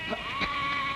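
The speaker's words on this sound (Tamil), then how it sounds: "ஆட்டு கூட்டம்." A herd of goats bleats in short, overlapping calls, close and fairly loud, over a steady background hum.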